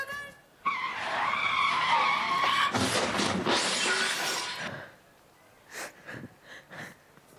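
A loud, sustained tire screech from a skidding motorbike lasts several seconds, then cuts off, followed by a few short voice sounds.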